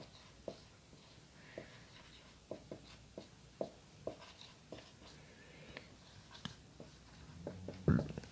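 Chalk or marker writing on a classroom board during a polity lesson: a faint run of short taps and strokes at an uneven rhythm, with quiet room noise and a brief louder knock near the end.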